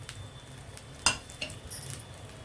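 Garlic frying in oil in a pan for an Andhra chana dal coconut curry, a faint steady sizzle broken by a few light clinks of a utensil.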